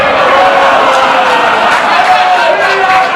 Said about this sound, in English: the crowd in full appreciation of the Kentucky gentleman, Chuck Taylor